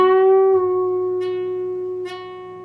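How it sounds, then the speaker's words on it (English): Electric guitar sustaining a bent note at the 11th fret of the G string with slow vibrato in a solo, one long ringing tone slowly decaying, with two faint pick scrapes along the way. "I'm going to play a vibrato. It's going to sound like this played slowly."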